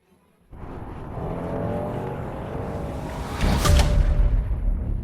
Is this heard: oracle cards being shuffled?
no